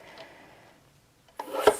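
Craft card stock being trimmed to size, with a quiet rub followed by a louder, rasping cutting stroke up close near the end and no talk.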